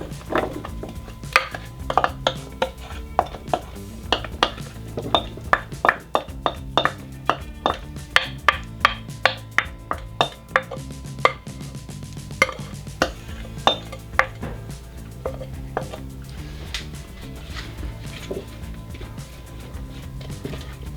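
Oiled vegetables for a squash and shallot flatbread go into a cast iron skillet, with repeated sharp clacks and scrapes of utensils against the pan, loud and close, irregular knocks spread over a steady low background.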